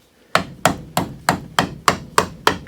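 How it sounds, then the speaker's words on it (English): A mallet taps a chisel cutting a mortise in wood, eight sharp, evenly spaced knocks ringing close and loud with no talk. "I can control that by how hard I tap and how I move the chisel"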